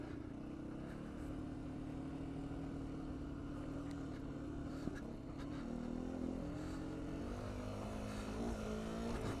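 A 2019 Beta 125 RR-S two-stroke dirt bike runs steadily off-road, its engine note droning close and continuous with shifting pitch as the rider works through rough terrain, no talk over it.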